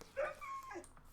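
A dog in a block-building video game whimpers in a short, high, wavering whine with a couple of pitch glides. It is fairly faint and stands alone without speech.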